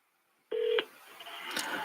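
A phone dials out for a call: one clear beep of a touch-tone key, then a soft hissing line tone, faint and close.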